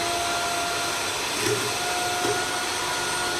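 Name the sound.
electric beater beating eggs for chocolate cake batter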